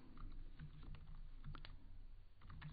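Keys clattering on a computer keyboard in a steady run of close, crisp taps, with no voice over them.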